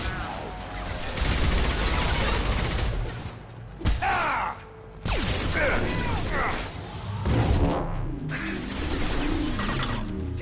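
Gunfire during Mass Effect Legendary Edition combat, with bursts of sharp shots and mechanical weapon clatter in irregular clusters, loud and busy, broken by short quieter gaps.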